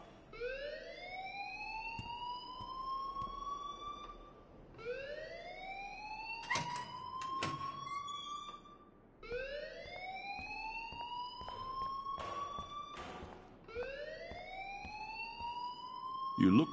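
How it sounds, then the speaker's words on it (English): A school alarm in the Life is Strange video game wails in repeating rising sweeps, four long cycles in a row, loud and steady, with brief clatter and a few spoken words caught between the sweeps. "Leave Miss Caulfield alone, and please turn off that alarm since that's your job."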